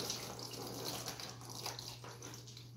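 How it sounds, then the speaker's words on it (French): Water pours from a mason jar onto a shiitake mushroom mycelium block at a sink, a soft continuous splashing trickle under a steady low hum. "on arrose ici les champignons"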